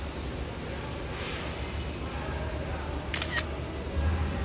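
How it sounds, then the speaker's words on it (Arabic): A phone's camera-shutter click sounds as a screenshot is taken, a quick double snap standing out over faint background hiss. "اوكي ناخذ سكرين"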